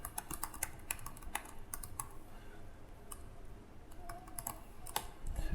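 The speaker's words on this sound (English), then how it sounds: "Let's type something in this method again." Rapid, irregular keystrokes on a computer keyboard while entering code in the Rider IDE, steady close clicking throughout with a few heavier taps and no talking.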